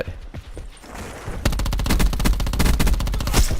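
Rapid video game gunfire bursts out loud and close, a dense rattling volley of automatic shots following a quieter, scattered opening.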